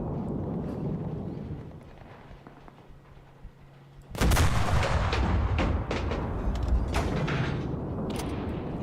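HE artillery rounds fired at a church in the video game Enlisted: after a quieter stretch of low rumble, a heavy blast erupts into sustained booming fire with several sharp cracks, loud and close, with no talking.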